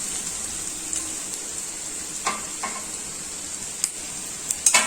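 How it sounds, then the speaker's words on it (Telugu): Boiled rice is stirred into chicken fried rice in a hot pan, a steady high sizzle underneath with scattered scraping clinks of the spatula against the pan, close and without talk. "ముందుగా ఉడకబెట్టి పెట్టుకున్న ఈ రైస్ని వేసుకున్నాము. ఈ రైస్ని వేసుకొని ఇలా బాగా కలుపుకోవాలి."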